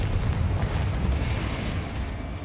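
Confringo blasting-spell explosion in Hogwarts Legacy: a loud, sustained booming blast with a dense low rumble that rolls on and slowly tapers off, with no talking.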